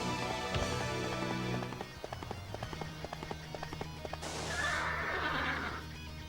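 Red Hare, a horse in a video game, neighs loudly with a whinny early on, then hooves clatter in a quick galloping rhythm, with a burst of noisy rushing sound near the end.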